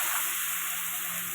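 White cumin, dried chillies, and ginger and chilli paste sizzle in hot oil in a pan, a steady, close, even frying hiss with no talk.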